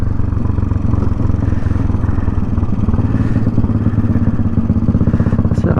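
A Royal Enfield 350 Bullet motorcycle being ridden, its single-cylinder engine thumping in a steady, loud, continuous rhythm close up, with a slight rise in revs near the end.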